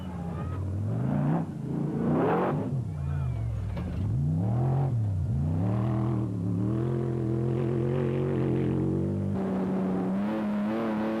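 The Bosel Brospeed Land Rover rally car driven by brothers Mark and Stuart Moffat in the Toyota 1000 rally, its engine revving up and dropping through gear changes, loud and close from start to finish.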